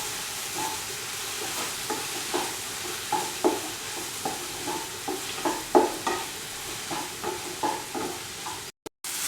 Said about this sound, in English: Add salt to this mixture and mix the mixture well.